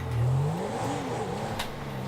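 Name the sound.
turbocharged Porsche engine revving in Grand Theft Auto 5 video game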